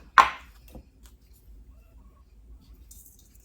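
A knife chops fresh parsley on a cutting board: one crisp, close thud followed by a fainter second cut, then near silence.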